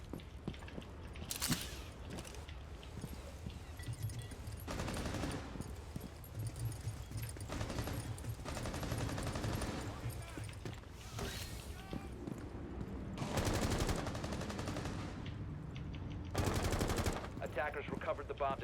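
Rainbow Six tournament match audio: bursts of automatic gunfire in a firefight, with sharp loud volleys between stretches of quieter footsteps and ambient game noise, and a commentator's voice at times underneath.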